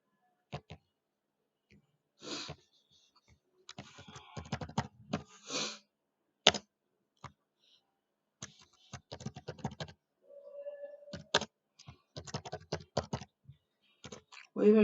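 Typing on a computer keyboard while filling in address details on a downloaded template: scattered bursts of close, dry key clicks with pauses between, some runs quicker, and a person talking intermittently.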